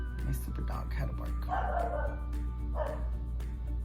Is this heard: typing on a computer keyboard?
no